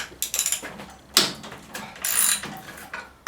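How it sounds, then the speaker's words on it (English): A hand ratchet cracks loose the tight head bolts on a 5hp Tecumseh engine on a Mastercraft MTD snow blower, giving quick rapid clicks, a sharp loud snap, then longer grinding ratchet strokes close up. "Just crack it loose with a ratchet."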